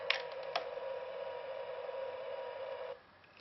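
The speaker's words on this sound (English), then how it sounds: "So this one's just a humming in space noise." A Star Tours toy button plays an electronic humming-in-space drone, a steady buzzy tone with a couple of clicks early on, holding for about three seconds before cutting off to near silence.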